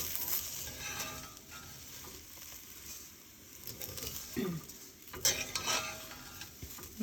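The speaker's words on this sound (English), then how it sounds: "when you're cooking, it's always like going to the bottom, bringing it back." Vermicelli with sprouted beans stirred in a cooking pot, a spoon scraping and clinking against the pot with a soft sizzle underneath, steady close scraping with a couple of louder knocks near the end.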